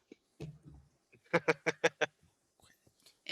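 A short run of five rhythmic, nasal quacks in quick succession, like a TikTok duck sound effect, follows a few earlier scattered honks. Quiet gaps sit around them, and it may be a voice imitating the duck.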